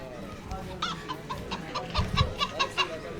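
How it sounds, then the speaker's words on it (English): A chicken sound effect: a run of rhythmic clucks from a hen, fairly close and steady, with background stream noise underneath. "We need a chicken sound."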